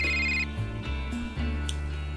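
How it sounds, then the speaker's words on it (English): A mobile phone ringing with a repeating electronic ringtone, fairly close and clear, heard inside a farm shed near a tractor with no talk over it. "his phone rings"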